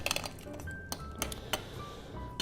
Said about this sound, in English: Add just a touch more ice to that.